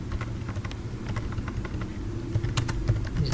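Keys clatter in quick, uneven bursts on a computer keyboard while someone types a JavaScript string, steady close clicking over a low background hum.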